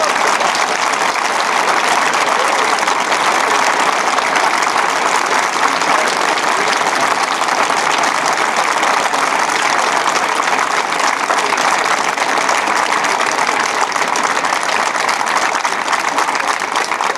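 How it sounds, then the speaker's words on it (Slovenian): A theatre audience applauds at length after a recited performance of France Prešeren's poem, the clapping dense, steady and loud throughout with no voices over it. "po vašem aplavzu sodeč"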